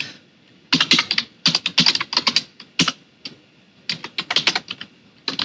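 Rapid bursts of clicky keystrokes on a computer keyboard, close and crisp, arriving in uneven clusters with short pauses between runs of typing.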